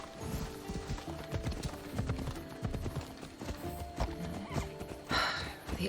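A horse ridden in Assassin's Creed Odyssey, hooves clip-clopping in a steady rhythmic gait with snorts and a whinny, fairly close and moderately loud without speech.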